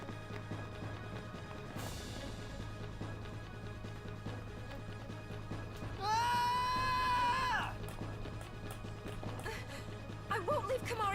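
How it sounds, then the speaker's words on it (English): A short, high-pitched scream rings out in Final Fantasy X, loud over faint game background sound, with a brief softer cry near the end. "reused the scream from Kiloko for that"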